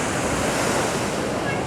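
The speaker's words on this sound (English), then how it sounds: "It does make a big splash." Broad rushing wash of water from a Europa Park water ride boat's big splash, a steady loud roar with no distinct onset, heard briefly.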